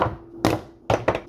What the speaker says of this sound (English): If you can hear my neighbor bumping and thumping their cabinets